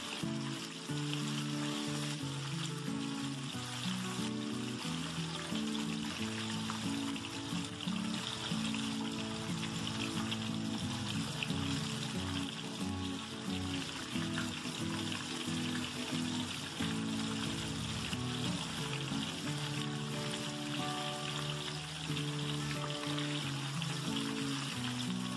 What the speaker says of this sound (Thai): เราต้องคอยคนนะคะเป็นประจำค่ะเพราะว่ากล้วยเราจะได้กรอบและสุกทั่วค่ะ